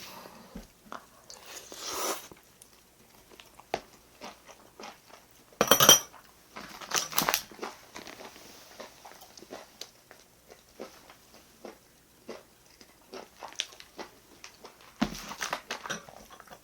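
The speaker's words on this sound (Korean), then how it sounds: "오랜만에 곱창 먹으니까 진짜 맛있다." Close, intermittent chewing and biting sounds while eating grilled beef intestines (gopchang), with scattered clinks of cutlery and dishes; short bursts of crunching and smacking separated by quieter pauses, no talking.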